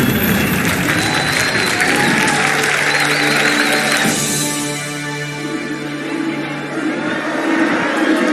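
Crowd in a Halo 2 Anniversary cinematic applauding and cheering in a dense roar that fades after the midpoint, leaving a lower murmur under sustained tonal hum.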